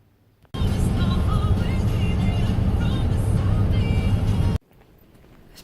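Interior rumble of a car driving to an office, a steady low road and engine drone that starts abruptly, holds evenly at moderate loudness for about four seconds, then cuts off to quiet.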